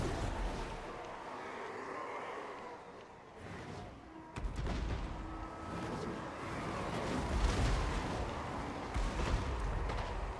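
Artillery pieces fire on crossbowmen in a Total War: Warhammer 2 battle, heavy booms rolling over a constant din of combat, with a sharper blast midway.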